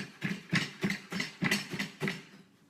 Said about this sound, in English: I just like bundle it up and kind of chop it.